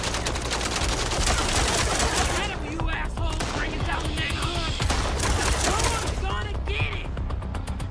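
Rapid gunfire in the video game MindsEye, dense bursts of automatic shots and crackling volleys firing almost continuously, loud and close, with someone talking over the battle.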